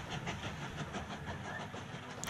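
Train rolling into a station in the video game Mashinky, a continuous rumbling clatter of wheels and carriages with rhythmic clicks, moderately loud and steady without talk.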